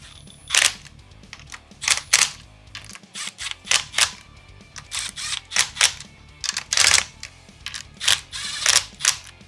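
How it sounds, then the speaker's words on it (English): Impact gun on its lowest setting running acorn nuts down onto a Suzuki Quadzilla LT500R engine, heard as a string of short sharp rattling bursts with brief pauses between them, loud and close. "I just ran those down in the lowest setting on the impact gun"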